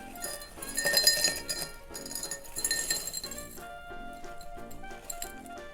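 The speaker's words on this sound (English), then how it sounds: "Crushed ice goes in the glass." Crushed ice tumbling and clinking into a cocktail glass for a rum planter's punch, a bright rattling cascade that comes in uneven bursts and then settles into lighter clinks.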